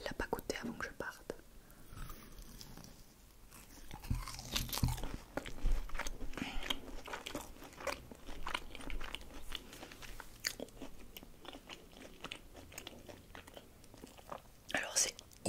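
Crunchy cheesy Burger King Doritos snack being bitten and chewed close to the mic in a whispered mukbang, with repeated crisp crunches and soft mouth sounds mixed with whispering.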